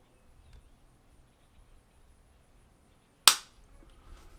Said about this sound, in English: Yep, that was it. 5 shots.